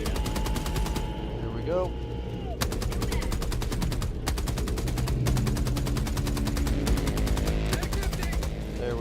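A heavy machine gun fires in Helldivers 2 in long, rapid, loud bursts that are nearly continuous, with brief pauses between them, and a voice speaks briefly over the gunfire.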